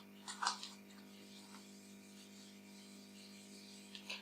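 Board eraser rubbing out writing on a classroom board during a lesson on regions of a plant root, a short burst of soft rasping strokes near the start, then quiet hum with a faint rub near the end.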